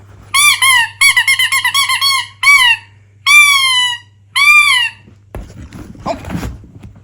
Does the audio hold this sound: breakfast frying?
no